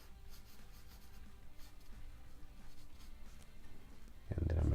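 A pencil drawing lines on paper makes soft, steady scratching strokes, faint and close, ending in a louder thump.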